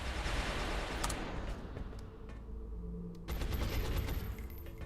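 Rapid video-game gunfire from XCOM Long War, dense bursts of bullet shots in two loud clusters with a brief quieter gap between them, no voices over the firing.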